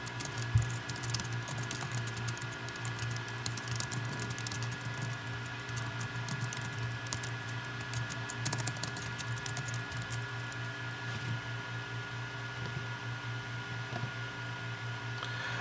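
Steady, faint keyboard typing at a computer: continuous light key patter over a constant low electrical hum, with no one talking.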